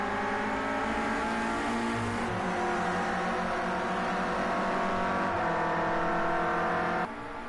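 Clio Cup race cars in a racing video game league, engines droning loud and steady as they run close together into a corner, with shifting pitch as throttle changes and no talking.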